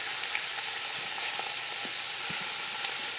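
Two pounds of ground chuck sizzles and fries steadily in oil in a slow cooker pan, a continuous close hiss with faint crackles and small pops, no voices.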